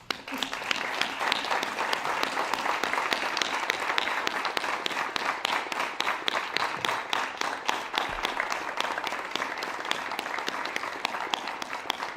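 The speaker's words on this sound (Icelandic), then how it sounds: "Klappum." An audience at a graduation ceremony applauds, a dense, sustained wash of many hands clapping that stays strong and even for about twelve seconds in a large room.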